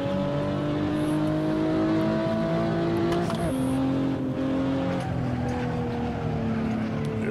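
Race car engine from Assetto Corsa droning steadily at high revs through the whole stretch, pitch shifting between gears, loud and close with no talk over it.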